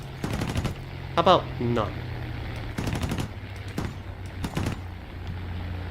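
Several bursts of rapid automatic gunfire from the War Thunder video game, each a quick rattling string of shots, come between stretches of a steady engine drone while a voice speaks briefly between bursts.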